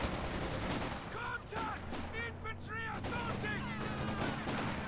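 Machine gun fire in the Company of Heroes 2 strategy game, short rattling bursts set low in a busy battle mix, under steady commentator speech.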